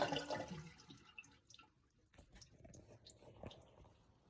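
A household toilet flushes as the tank drains, with a rushing burst of water at the start fading into quieter gurgles and trickles, faint and close.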